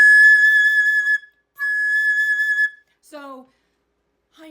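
Flute played with the first finger down and no thumb, holding a high A flat: two clear sustained whistle-like tones separated by a short gap, loud and alone, followed by a brief lower sliding note.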